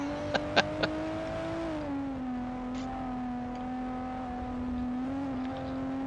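A drifting car in a GT-R racing game holds a steady, loud engine drone that shifts pitch slightly as it slides, with a few brief sharp clicks near the start.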